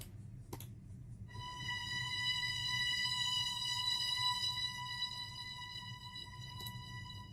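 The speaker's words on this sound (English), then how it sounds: "I added a single F note from the BBC Symphony Orchestra, and it was the violin 1 preset" A single sustained F note from the BBC Symphony Orchestra violin 1 string preset, a smooth bowed tone swelling gently in loudness and holding steady for several seconds over a low rumbling bed.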